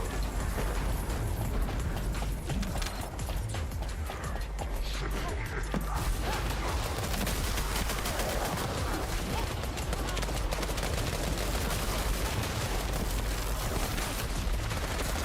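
Enemy gunfire shooting icicles in The First Descendant video game, a dense continuous barrage of rapid shots and impacts that stays loud and steady throughout, layered with game mechanisms and no clear talk.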